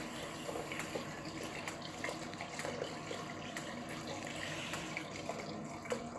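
A shower runs somewhere in the background, giving a steady, faint hiss of falling water that continues without a break.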